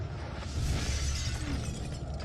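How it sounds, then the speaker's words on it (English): Ferret CS gas rounds fired from an M79 launcher shatter on impact with the ground, producing a dense, loud crackling burst with a deep rumbling body that holds steady throughout, no voices present. "The ferret rounds shatter on impact with the ground and release CS gas to targeted areas."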